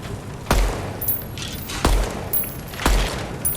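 Three loud gunshots ring out in the Deadrop video game, evenly spaced about a second apart, each a sharp crack with a low boom and a short tail.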